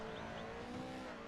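Race truck in iRacing running into a corner on a short course, a faint steady engine drone with a brief tire squeal, no talk.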